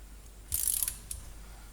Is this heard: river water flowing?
no